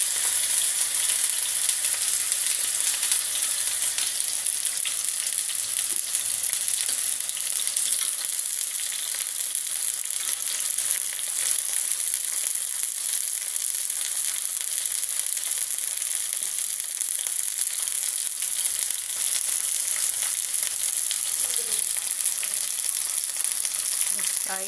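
Gosht (meat) frying in a pan for Pakistani-style bhindi gosht, giving a steady, dense sizzle that holds evenly throughout without talk over it.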